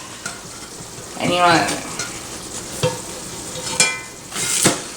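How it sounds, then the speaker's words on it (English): A hoe cake sizzles in a frying pan and is scraped and flipped with a spatula, making soft crackling with a few sharp scrapes and clicks while a person talks briefly over it. "That's how you flip a hoe cake."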